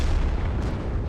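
Heavy boom of tier 8 artillery fire in a tank battle game, a dense, low rumbling blast that fills the whole short moment at moderate loudness.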